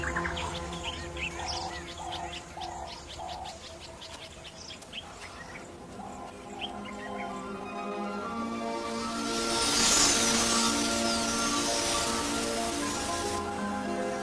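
A large flock of quelea birds gathers at sunset, with dense chirping and twittering from many small birds, then a swelling rush of wingbeats or movement toward the end, with no talking.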